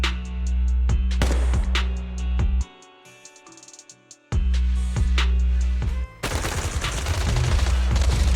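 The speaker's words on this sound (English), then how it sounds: "Gunfire? This pattern. Suppressive marching fire." Loud, rapid bursts of video game gunfire, suppressive marching fire, crackle up close with sharp repeated cracks, a brief low lull in the middle, then a dense volley of shots.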